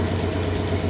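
A 1964 Oldsmobile 394 V8 with a freshly painted engine and new power steering pump idles steadily nearby, a low, even rumble with a constant drone and no voices.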